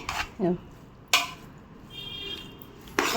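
Food stirred and mixed in a pan with a spoon, with spice powder added: a few scrapes and soft clinks against the pan, spaced out over a quiet background, close and moderately loud.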